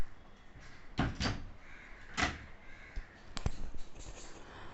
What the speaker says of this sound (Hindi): और ये दरवाज़ा अपने आप खुल जाता है